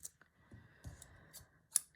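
Large scissors snip several times, giving crisp, close metallic cuts with soft rustling in between, quiet and with no talking.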